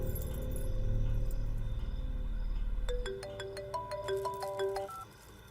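A mobile phone rings with a rising, repeating electronic ringtone melody that enters after a low rumbling background and sounds clear and fairly close.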